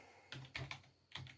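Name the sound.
typing commands on a computer keyboard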